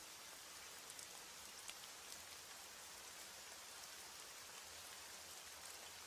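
Steady rain falls at night in a dense, even hiss that never lets up, with soft scattered drops pattering over the wash at low volume and no voices.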